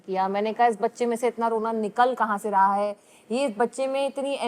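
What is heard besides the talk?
No distinct noise like a dog, phone or traffic.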